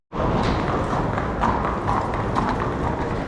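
Horses' hooves clip-clop steadily and continuously at close range on a hard surface, an irregular overlapping patter of many hooves with no talking.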